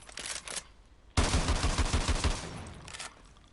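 The A12 gun firing in Call of Duty: Modern Warfare 2 Campaign Remastered, a loud sudden burst of rapid shots after a few quieter ones, tapering off over about two seconds.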